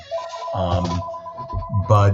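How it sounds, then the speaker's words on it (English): A phone rings in the background, a steady repeating electronic tone running beneath a man's short spoken words throughout. "Sorry about that phone ringing in the background there."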